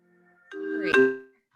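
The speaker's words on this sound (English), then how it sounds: "somehow it communicates with my laptop and then my laptop rings" A single short electronic ringtone chime from a laptop signalling an incoming phone call, a clear rising melodic tone swelling for about a second in a quiet room.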